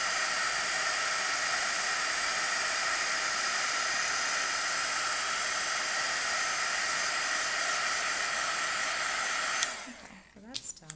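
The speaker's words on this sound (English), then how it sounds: "tend to leave my embossing gun in one place until I start seeing it go, and then I start moving it around" An embossing heat gun blowing on embossing powder gives a loud, steady broadband whoosh for about ten seconds, then cuts off, leaving faint handling clicks.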